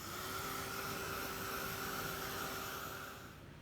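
Heat tool drying craft paint, blowing with a steady whirring hum and a high whine, fairly quiet and constant before tapering off at the end.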